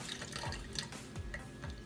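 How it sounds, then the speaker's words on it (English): Water used to thaw frozen fish food is drained and poured out of its container, a soft continuous splashing and trickling with small drips, close and fairly quiet, no voices. "what I'm going to do is kind of drain out all of that water that I used to thaw it out, and I'm just going to dump that"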